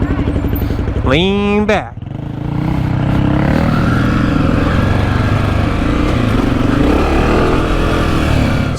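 Honda CRF250F dirt bikes being ridden, a loud, continuous engine drone close by that dips briefly and then steadies while a rider calls out a short instruction.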